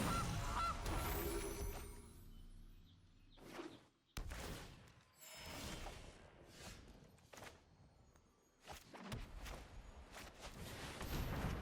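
A goose card entering play in Magic: The Gathering Arena sets off several loud honking bursts that rise and fall, separated by brief quiet gaps, with no talk over them.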